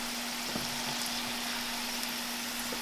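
Fresh okra frying in hot oil gives off a steady, soft sizzle with a low constant hum beneath it and no talking.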